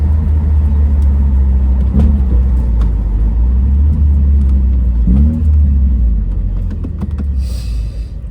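Loud, steady engine roar from a Mercedes W202 C220 at full throttle on a drag strip, a deep rumble heard from inside the car with small shifts in pitch, as during a gear change, and no voices.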